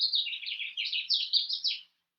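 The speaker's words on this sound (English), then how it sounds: "The birds are chirping for you." Small birds chirping outdoors, a steady string of quick high tweets in short phrases for almost two seconds, moderately close and clear, then stopping into silence.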